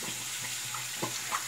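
Water runs steadily from a tap into a sink, a constant hiss and splash with faint gurgling blips, left running to warm up after cold groundwater chilled the pipes.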